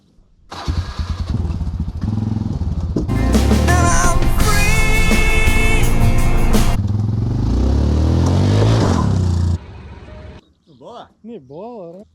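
Farm quad bike engine revving hard as it drives off a trailer, a loud rattling roar that climbs and holds for several seconds with clattering, then cuts out, followed by someone talking.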